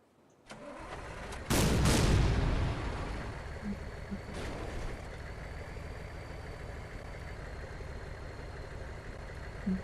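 A video game tank's engine starts with a loud burst, then settles into a steady rumbling idle that continues to the end without any talk.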